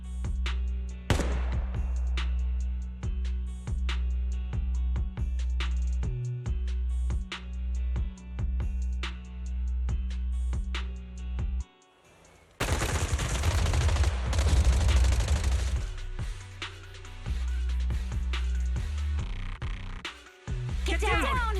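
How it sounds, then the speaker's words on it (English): Sustained volleys of suppressive marching gunfire from the video game Zenless Zone Zero: rapid, dense bursts of shots with brief gaps, loud and close, swelling into a heavier barrage partway through. "Gunfire? This pattern. Suppressive marching fire."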